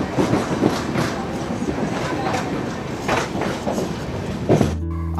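A sleeper train hauled by a WAG-7 locomotive pulls away from a station platform, with steady rumbling and rhythmic wheel clatter at close range and a loud tonal burst near the end.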